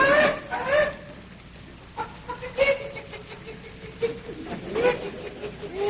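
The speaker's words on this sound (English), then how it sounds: "Jethro, go on out there and catch us a chicken." Chickens clucking on a farm homestead, several close, uneven clucks and short squawks bunched at the start and again near the end, with quieter stretches between.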